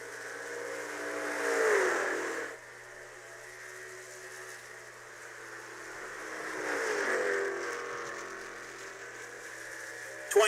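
Race truck engines at Pocono in a video game race, heard as two passing swells of whirring, revving engine tone that rise and fade away, with low background hum between them.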